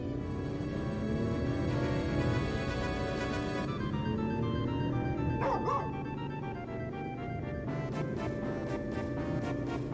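A dog barks in Final Fantasy XV, several short yips and bow-wows standing out over steady game music and ambience, fairly close, with a busy cluster of barks in the middle.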